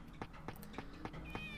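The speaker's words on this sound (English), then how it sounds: "Oh, that cat." A cat meows in the video game Shenmue, a few short, faint mews repeating roughly every quarter second over low background game ambience.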